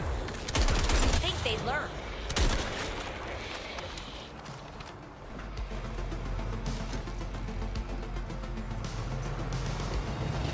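Gunfire bursts in the Toxic Commando video game, loud cracks early on, then steady rapid shooting over a dense rumbling mix of game noise, with a person talking.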